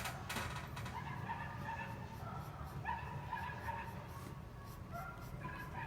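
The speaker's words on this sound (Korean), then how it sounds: "밖에서 개가 엄청 짖네요" A dog barks repeatedly outdoors, the yips and barks muffled and mid-distance, set against a low background hum with speech nearby.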